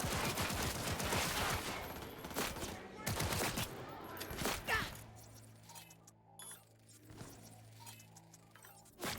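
Rapid bursts of gunfire from a Cyberpunk 2077 firefight on PS5 Pro, loud volleys in the first half giving way to sparser, quieter shots and echoing tails later.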